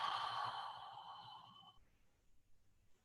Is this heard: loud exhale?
yes